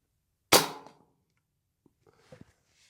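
A Brocock Bantam Sniper HR .25 air rifle fires one sharp, close crack with a brief ringing tail, followed about a second and a half later by faint, soft clicks and handling noises.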